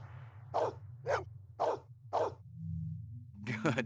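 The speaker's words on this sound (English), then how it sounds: "Who's the best dog in the whole world?" In Blade Runner Enhanced Edition on PS5, a dog gives four evenly spaced, close barks, then a quicker double yip after a short pause, all over a low droning game hum.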